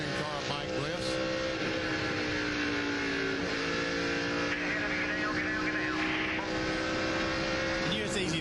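Onboard, Greg Biffle's race car engine drones loud and steady during the 2004 Ford 300 race, with pitch shifting as he drives, while commentators talk over it.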